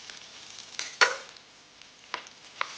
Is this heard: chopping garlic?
yes